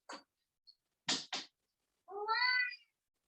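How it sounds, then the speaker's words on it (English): A pet cat gives a few short close chirps and calls, then a longer rising meow asking for attention, with silence between the sounds and no talking. "My cat wants some attention."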